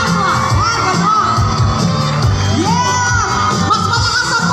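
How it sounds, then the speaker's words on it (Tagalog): Loud concert crowd at a show in Quezon City cheering and shouting continuously, a dense roar of many voices with whoops rising above it throughout. "Mas malakas ang palakpakan at sigawan!"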